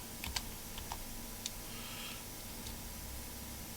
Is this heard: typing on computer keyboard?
yes